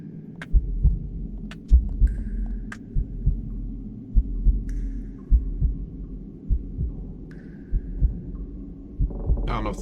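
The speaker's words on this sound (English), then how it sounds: "I don't know if the heartbeat is actually something's nearby or not" Slow, steady heartbeat thumps in a horror video game, each double beat low and muffled over a dark ambient hum, with faint chimes drifting in between.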